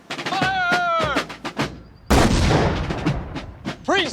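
A ceremonial rifle volley fired by soldiers on command at a military flag ceremony, one sharp loud blast cutting in mid-clip after spoken commands, followed by decaying echo and more talk.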